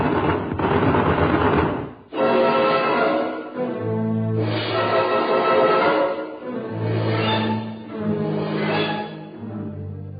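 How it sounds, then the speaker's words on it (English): A machine gun fires in a jungle battle scene of an audio drama, rattling loudly in several rapid bursts separated by brief pauses. "Turn the machine gun."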